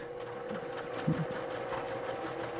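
A sewing machine runs steadily, stitching quilt block seams in a continuous even whir with a faint rhythmic patter and a brief small knock partway through, no voices.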